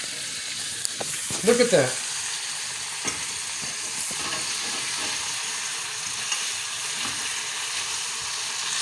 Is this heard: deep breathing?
no